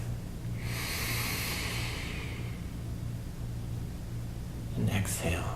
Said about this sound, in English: Take a full deep breath.